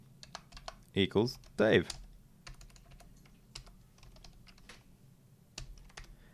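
Scattered clicks of typing on a stiff computer keyboard, near and fairly quiet, with a few louder bursts where someone speaks briefly over the key taps.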